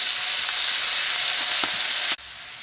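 Onions fry slowly in a pan with a steady, dense sizzle, close and loud, with a few faint stirring knocks, ending in an abrupt drop near the close.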